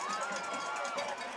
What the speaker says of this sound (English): You can hear the crowd